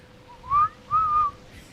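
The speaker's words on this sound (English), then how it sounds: "Yeah, we can whistle now." A character whistling in the stealth video game Splinter Cell: Chaos Theory, two short clear whistle notes, the second longer and level, alone over a low game-ambience hum.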